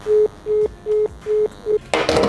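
A call is placed to a phone wrapped in aluminium foil: five evenly spaced electronic calling beeps sound loud and close, then give way to a short burst of noise.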